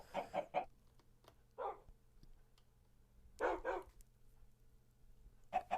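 Minecraft chickens cluck in short separate bursts with quiet gaps between them, and a faint steady hum runs underneath.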